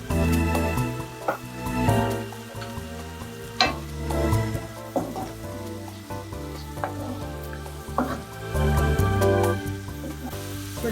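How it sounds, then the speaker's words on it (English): Powdered spices such as coriander and turmeric fry in a pan for keto butter chicken, a loud continuous sizzle with stirring scrapes and crackles throughout, no talking. "We're just going to let that cook down and really get the nice flavor out of the powdered spices that we just added here"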